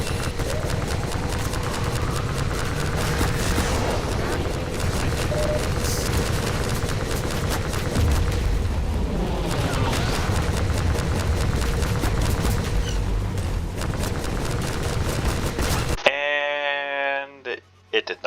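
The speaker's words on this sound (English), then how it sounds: "So that's when I pull out the biggest of big guns. The nuke." A nuke weapon fired in Half-Life 2 played as Turok: a long, dense, roaring blast of rumbling explosion and crackling debris that fills the scene loudly for many seconds before cutting off abruptly.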